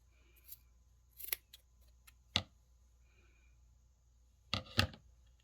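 Several crisp scissor snips trimming the uneven threads of a handmade tassel for an Easter banner, close and isolated, in two clusters separated by quiet.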